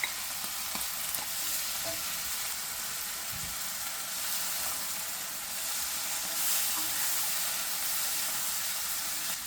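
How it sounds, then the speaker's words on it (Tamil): Tomatoes go into a pan of sautéed onions for fish biryani, with a steady, soft, close sizzle of frying. A spoon stirs through the pan now and then, and no one speaks. "இப்போ நாங்கள் வந்து டொமாட்டோவை போடுறோம். இந்த வெங்காயம் வந்து நல்லா வதங்கிட்டு"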